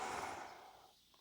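A single soft breath exhaled through the nose and mouth during a core breathing exercise, close and breathy, fading out over about a second.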